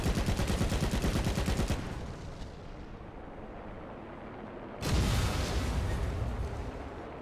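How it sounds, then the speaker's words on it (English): Tank cannon and machine-gun fire in the War Thunder video game: a dense rattling burst, a lull with rumbling decay, then another heavy loud blast of fire, no voices. "Maybe I'm just shooting wrong"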